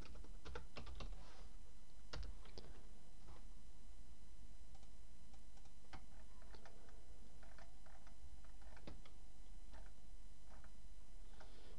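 Close keyboard typing while writing code for a neural network tutorial, bursts of quick clicks with short pauses throughout, no talking.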